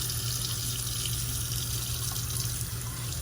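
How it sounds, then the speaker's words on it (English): A FlexSeries electric shaver's center blade is rinsed under a running tap, with a steady, close, continuous rush of water pouring into a sink from start to finish. "So what I'm going to do is just run it underwater."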